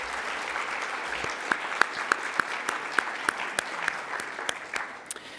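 Audience applause at the opening ceremony of a palliative care event, welcoming steering committee members: steady clapping from a moderate crowd with a few louder individual claps standing out.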